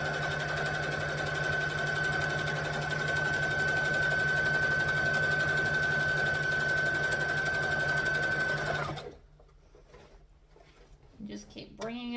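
A sewing machine stitching a lightweight bag pattern at steady speed with a constant motor whir for about nine seconds, then stopping abruptly, followed by quieter handling and a few short stitches; a person talks over it.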